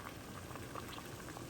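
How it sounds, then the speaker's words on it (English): Plain water, with nothing added, boiling in a cooking pot: a steady bubbling simmer with small pops and gurgles throughout, fairly quiet and close, with no voices. "Okay, it reached a boil."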